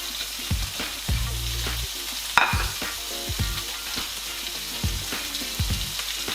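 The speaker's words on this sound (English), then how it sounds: "I'm just going to cook some onions" Sliced onions frying in butter in a pan for a burger, a steady close sizzle broken by repeated scraping and stirring strokes and an occasional sharp clink, with no talking.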